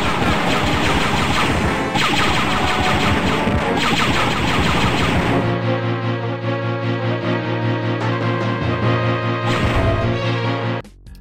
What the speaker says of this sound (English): I love the design of the Stormtrooper rifle, especially the audio design